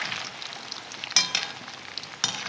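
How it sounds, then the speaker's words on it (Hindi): Bati dumplings frying in ghee over a low flame, a soft continuous sizzle with faint crackles and a couple of sharper pops, no voices. "कम आंच पे हम इसे तलेंगे"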